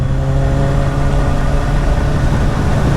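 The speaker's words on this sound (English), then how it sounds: "The third one would have to be the way this bike sounds now with these pipes on." A 2015 Kawasaki Z1000 Sugomi motorcycle engine fitted with aftermarket exhaust pipes idles loud and close, giving a steady deep throbbing rumble with no speech.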